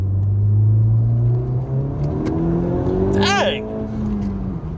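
Honda Civic Type R, wrecked and repaired, driving with its wheels spinning; steady engine drone and road rumble with a brief rising squeal near the end, under a man's short exclamation.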